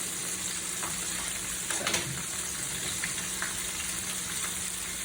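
A buttermilk-coated chicken breast fries in hot oil with a steady, dense sizzle and crackle throughout, with a brief stirring clatter partway through and a single spoken word.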